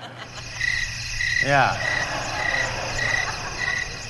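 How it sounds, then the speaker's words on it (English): A cricket sound effect plays in a church talk setting, rhythmic bursts of chirping repeating at a steady pace, with a brief swooping tone in the middle and a short spoken word. "Where's the cricket noise?"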